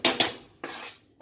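A lid is set onto a simmering pot on a home stove, holding cilantro-topped food: three sharp metallic clanks with brief rattling rings, the first a quick double hit, heard close with no talk.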